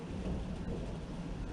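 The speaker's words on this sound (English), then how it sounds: "Bit of thunder in the background." Thunder rumbles low and steady in the background through rain-like hiss. A continuous broad wash sounds distant and fills the whole moment with no clear individual claps.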